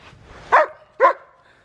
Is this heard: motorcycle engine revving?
no